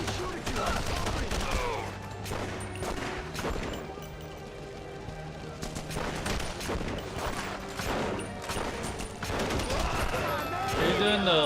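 Dense gunfire in The Punisher (2005) video game, rapid overlapping shots and crashes running continuously at close range, with a voice talking over the shooting.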